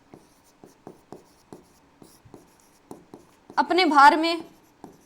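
Chalk or marker tapping and scratching on a board in short, evenly spaced strokes during a physics lesson, a voice speaking briefly over the writing midway before the strokes resume.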